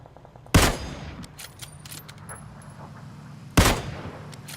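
Gunfire in PlayerUnknown's Battlegrounds: two sharp, loud shots spaced about three seconds apart, each with a short decaying tail, over quiet ambient background.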